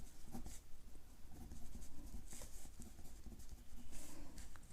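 Pen writing on paper while solving a trigonometry problem, a steady soft scratching with small tapping strokes running throughout, close and fairly quiet.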